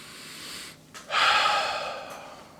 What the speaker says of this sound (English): let me take a deep breath here